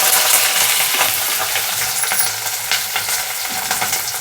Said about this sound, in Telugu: ఇప్పుడు ఉల్లిపాయలు, పచ్చిమిరపకాయలు కట్ చేసి పెట్టుకున్నాం కదా, ఇవి వేసేద్దాం ఇందులో